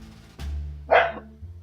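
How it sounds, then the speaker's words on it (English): One sharp bark from a dog close by, following a short thump of background noise. "Is the dog gonna stop barking?"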